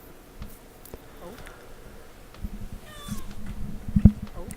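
A house cat gives a short meow partway through, faint against low room noise and soft handling sounds, followed by a brief thump.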